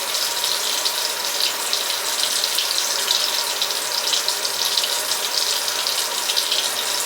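Water runs steadily from a tap onto a cloth being soaked, a continuous bright hiss and splash that stays even and close throughout, with no voices.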